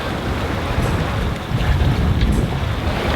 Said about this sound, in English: The wind's always increasing a tiny bit.